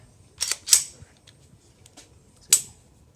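Trigger reset on a Tara Aerospace TM-9X pistol at a gun shop: a few sharp, light mechanical clicks, two close together and then one more after a pause, near and crisp over a quiet background.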